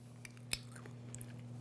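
Soft, close chewing of a strawberry dessert topped with crunchy granola: a few moist crunches and one sharper bite over a steady low electrical hum.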